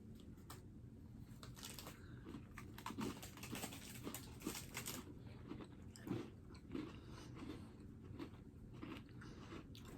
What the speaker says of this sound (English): These are crunchy Peruvian cookies with the unique flavor of lucuma fruit